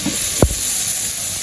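Potatoes go into a hot pan of cooked-down masala for aloo dum, making a loud, steady sizzling hiss marked by one soft thump as they drop in.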